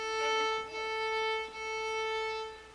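A sustained bowed violin note A from a fourth-grade lesson, a steady bright tone held for nearly three seconds with slight breaks in bowing, moderately soft and alone.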